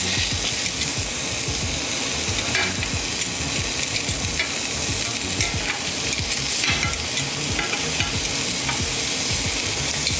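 Fish fillets fry in a hot pan with a steady, loud sizzle that holds for the whole stretch, with faint crackles and light scrapes from tongs. No one speaks.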